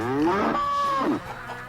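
A single cow moos once, close and clear, a long rising then steady bellow lasting about a second before fading into quiet background.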